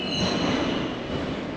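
German metro train running underground, a continuous close rumble of wheels on rails with a high squeal and whine layered on top.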